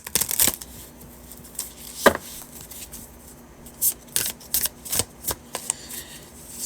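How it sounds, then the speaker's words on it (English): Tarot career cards are shuffled by hand close up, giving about a dozen crisp riffles and slaps in irregular bursts, some sharp and loud, with quiet gaps between them. "I'll pull out the all-purpose career cards"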